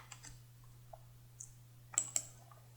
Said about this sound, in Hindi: राइट क्लिक करते हैं और रनेस वाले ऑप्शन पे जाते हैं और यहाँ पर क्लिक करते हैं।